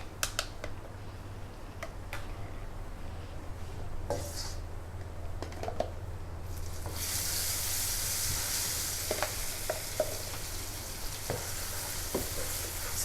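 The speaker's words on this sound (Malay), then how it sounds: "Alright, so now kita perlu tumis yang kita dah blend ni tadi." Blended sambal paste for sambal tempe sizzles and fries steadily in a pan, with a louder hiss building partway through and occasional clinks of a utensil stirring against the pot.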